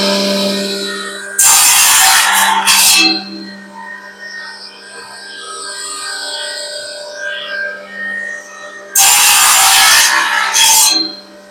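Two bursts of hand-sawing cross-cut through a Burma teak plank for a carrom board frame, close and loud, each a rapid run of rasping strokes, with a quiet workshop hum between them.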